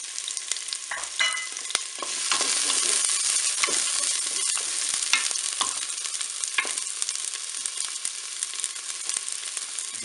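Chopped garlic cloves and shallot sizzle steadily in a Cookeo multicooker, a dense continuous frying hiss with occasional stirring clicks and scrapes, close and fairly loud, no talking.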